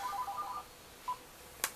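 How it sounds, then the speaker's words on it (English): A telephone rings with a short repeating electronic tone for an incoming call, and then a couple of brief clicks follow as a button is pressed. The sound is fairly quiet and is heard alone. "Why the fuck do people call my damn phone?"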